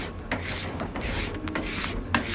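Hot wax being scraped off a ski with a plastic scraper, several quick rasping strokes in a row, close and fairly loud with short gaps between them.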